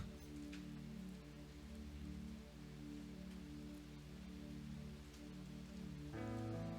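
Steady rain falls on a surface, a continuous even patter that runs throughout with a low droning hum beneath it and a brief tonal shift near the end.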